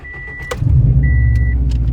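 A 2006 Subaru WRX STI engine cranks and catches after a chime, then settles into a loud, close, steady idle rumble with a tone beeping briefly over it.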